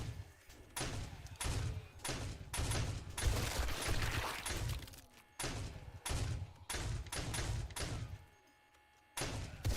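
Defensive gun turrets in 7 Days to Die fire in repeated bursts, thudding shots grouped in clusters with short gaps between them and a longer pause near the end, loud and close.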